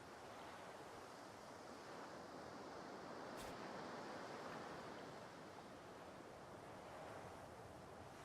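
Waves lapping against a shore in the game Divinity: Original Sin 2, heard as a steady, faint wash of surf noise with no distinct breaks, quiet and continuous throughout, with one brief click partway through.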